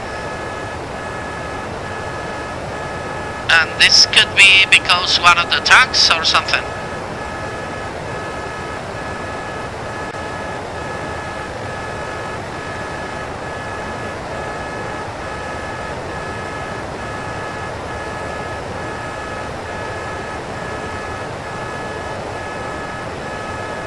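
A cockpit alarm in the Aerosoft DC-8 flight simulator gives a rapid, sharp electronic beeping for about three seconds over a steady engine drone, and someone speaks afterward.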